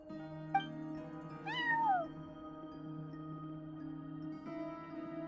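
A single cat in Genshin Impact, watching over a front desk, gives one clear falling meow over a steady background music bed.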